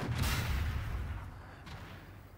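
A single heavy tank cannon shot in a tank combat video game, a deep booming blast up close that rolls off into a long fading rumble.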